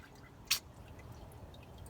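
A single drop of engine oil falls from a car as it drains, one crisp close drip against a low steady background hum.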